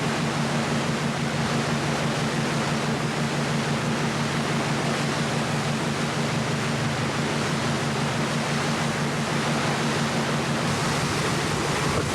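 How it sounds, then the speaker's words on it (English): Steady, loud rushing water of a stream shooting out of rock and pouring into a Norwegian fjord, a continuous broadband roar with no breaks and no voices. "A stream pours into the fjord."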